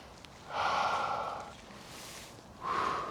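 Deep breaths during a low-impact strength and mobility workout, two loud breathy exhales with a softer breath between them, close up and alone.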